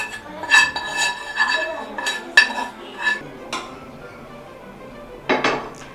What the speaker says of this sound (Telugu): స్టవ్ ఆఫ్ చేసి ఇప్పుడు దీన్ని వేరే బౌల్లోకి తీసుకొని చల్లారబెట్టుకోవాలి